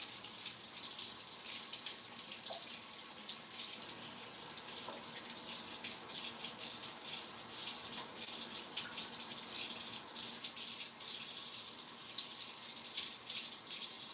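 Food, likely pumpkin, being rinsed under a running kitchen tap, a steady hissing gush of water that holds unbroken throughout, close and alone without speech.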